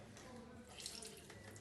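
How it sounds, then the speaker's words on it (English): Water runs from the hose tap of a caravan's water tank onto the ground beneath the chassis, a steady faint splashing trickle with someone talking over it. "You pull the cap off, turn the tap, and the water will come out"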